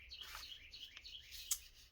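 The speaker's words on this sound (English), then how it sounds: "Those birds might drive me crazy." Small birds chirp and tweet in short, quick calls, faint and somewhat distant, with one sharper chirp standing out near the end.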